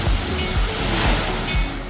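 Choppy water rushing and sloshing steadily in the lazy river at Baha Bay water park, Grand Hyatt Baha Mar, loud and close, a continuous wash of surf with low thumps as waves roll through.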